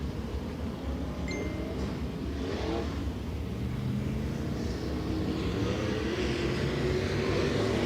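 A dirt late model race car on the Senoia Raceway speedway, running a World of Outlaws Late Model Series event, roars steadily at a distance with its engine note rising and falling as it circles the track.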